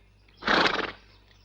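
A mare neighs once in a film scene, a loud whinny of about half a second rising and trembling over a quiet background, with no talk over it.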